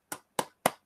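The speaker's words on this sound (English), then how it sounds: "We're giving you hand claps right now." Three sharp hand claps in a slow, even rhythm, close and crisp with short gaps between them, in praise of a sold-out Anthony Joshua boxing event at Madison Square Garden.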